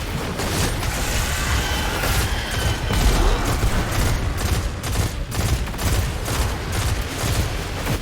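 Rapid-fire gunfire from a weapon in the video game Destiny 2: a dense, continuous fusillade of close, loud shots with mechanical clatter, sustained for several seconds and not covered by any talk.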